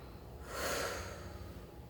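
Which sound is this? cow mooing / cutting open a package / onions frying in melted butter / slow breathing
slow breathing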